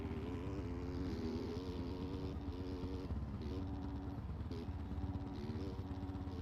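Motocross bikes racing in the MX Bikes video game at a Budds Creek round, a continuous dense engine drone with several buzzing, shifting pitches layered together, steady and loud throughout with no talk.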